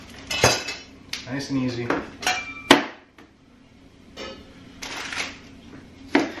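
A knife chops vegetables in half during meal prep, producing sharp cutting-board knocks scattered irregularly between softer clatter and handling sounds, with a brief voice speaking partway through.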